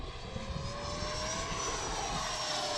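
An RC model airplane flies outdoors, its electric propeller motor giving a steady, fairly loud buzzing whine with a slowly gliding pitch and wind-like rush throughout.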